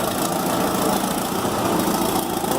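A John Deere 540B skidder's diesel engine runs loud and close at a steady idle, a rough, continuous rumble with slight knocking and no voices.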